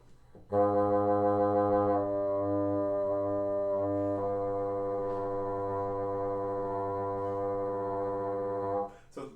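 A low, muffled woodwind multiphonic with the low B and low B-flat keys added drones steadily for around eight seconds, several pitches sounding at once with a faint wavering, then stops abruptly.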